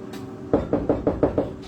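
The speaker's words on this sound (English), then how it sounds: "Knocking on the wall." Six quick knocks land on a bedroom wall in an even, steady rhythm, close and fairly loud, after a brief quiet start with no talk.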